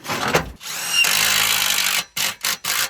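A power drill drives screws into a solar panel mounting rail in short close bursts, with a longer whirring run that slows, followed by several quick stop-start pulses.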